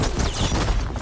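A machine fires a dense burst of gunfire down the center in Horizon Forbidden West, a loud continuous rattle of rapid shots filling the whole moment with no voices.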